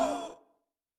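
One forceful exhalation in a yoga breathing exercise, a loud breathy rush close to the mic that fades within half a second into silence.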